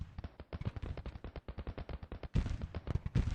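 Dense musket volleys crackle in a Civil War battle in Grand Tactician. Rapid overlapping shots sound like a sustained rolling fusillade with a heavier burst near the end, and no voices are heard.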